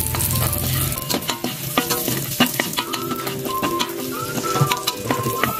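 Beetles fry in a pan with a splash of vinegar, giving a loud, busy sizzle packed with crackles and pops, while a spatula scrapes and clinks against the pan throughout.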